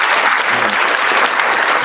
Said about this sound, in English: So here's your applause.